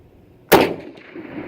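A single sharp crack from an old used MAS 1936 rifle in 7.5x54, fired from a rest, with a short decaying rumble and faint echo trailing after the shot.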